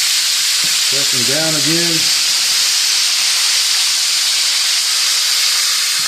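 Chicken and potatoes frying in deep oil give a steady, loud broadband sizzle and hiss that runs unbroken throughout, with a short spoken instruction near the start.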